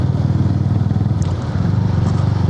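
A United CCR 150 motorcycle engine, built without a balancer, idles steadily and loud nearby with an even low throbbing pulse and no talk.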